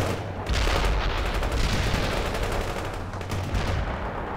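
Dense, continuous gunfire and explosions in the wartime strategy game World in Conflict, a loud wall of rapid shots and blasts that barely lets up, with no voices.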